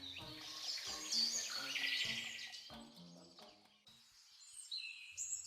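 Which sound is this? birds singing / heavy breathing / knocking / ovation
birds singing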